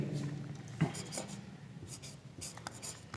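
Pen or chalk writing by hand on a surface during a Class 9 polynomial math lesson, a soft scratchy scribbling with a sharper tap near the start, moderately close with faint room noise.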